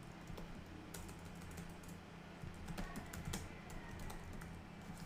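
Typing on a computer keyboard, a quick, irregular run of clicking keystrokes close by at low volume, with a few sharper taps standing out from the soft background hum.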